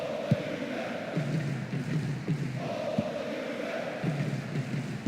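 Stadium crowd chanting in PES 2009 during a Serie A match between Juventus and Inter Milan: a steady, dense wash of massed voices with faint rhythmic pulses and occasional thumps throughout.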